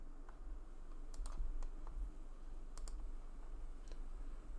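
Quiet clicks and taps on a computer keyboard, a few scattered keystrokes and mouse clicks over a low background hum, close but faint.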